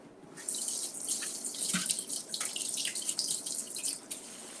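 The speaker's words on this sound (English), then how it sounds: "I'm gonna go ahead and soak these in cool water" Cool tap water runs steadily from a kitchen faucet into a bowl to soak potatoes for hash browns, a continuous splashing hiss that is close and fairly loud, starting after a brief quiet moment.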